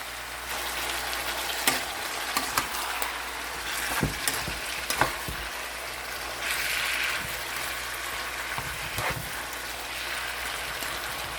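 Dried fish escabeche with spices and celery fries in a pan, giving a steady dense sizzle broken by occasional scraping and clinking stirs, loud and close, with no voices.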